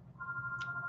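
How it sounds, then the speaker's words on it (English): A telephone rings nearby with a steady electronic tone, alone and fairly quiet, with low room hum beneath it. "oh gosh, this phone never stops ringing"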